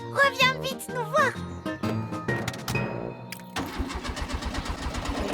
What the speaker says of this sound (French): Zut alors, la voiture ne démarre pas.